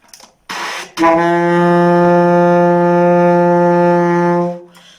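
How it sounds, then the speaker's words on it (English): An alto saxophone sounds a single sustained key D note, steady, loud and close for about three and a half seconds after a brief breathy noise, then stops cleanly. "key D sounds like this"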